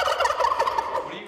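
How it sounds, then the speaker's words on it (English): Turkeys gobbling, the presidential Thanksgiving turkeys Drumstick and Wishbone at Virginia Tech: a loud, close, warbling rapid gobble call lasting about a second. "That's the sound of 2 lucky birds."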